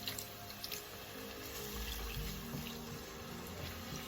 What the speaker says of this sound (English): So this is where I will add a little bit of water